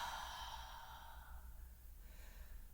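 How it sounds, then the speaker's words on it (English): Slow breathing in and out during a yoga flow, a soft airy exhale fading over a few seconds, faint and close with no talk. "So inhale and exhale."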